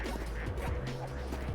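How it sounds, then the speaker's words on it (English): Ducks quacking in the video game Project P.I.T.T., several short honking calls in quick succession over a steady game background hum. "we're gonna have some ducks come out of here while we're doing this"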